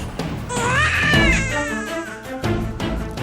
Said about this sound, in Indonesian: Itu suara bayi.